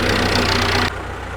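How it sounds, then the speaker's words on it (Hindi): A tractor engine running during a paddy harvest, a loud steady low chugging drone close by that abruptly drops in level near the end and keeps idling more quietly. "ट्रैक्टर चला रहे हैं सकलैन भाई"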